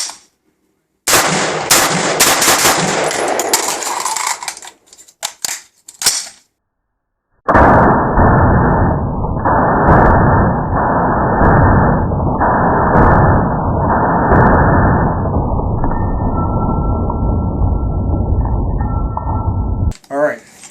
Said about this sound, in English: I love shooting this rifle